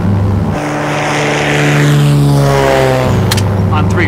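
A light plane's propeller engine drones steadily and loudly throughout, a constant low throbbing hum with a shift in pitch partway through and a brief clatter near the end; voices speak over it.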